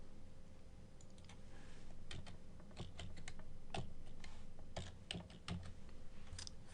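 Someone typing a word on a computer keyboard, a run of separate close key clicks at uneven spacing over quiet room hum.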